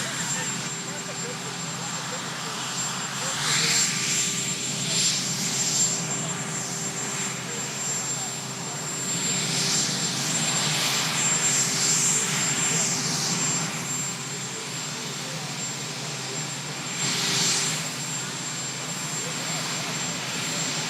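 Marine One, the presidential helicopter, whines and thrums steadily at a distance with a sustained high-pitched turbine tone and surging rotor wash, while voices murmur underneath.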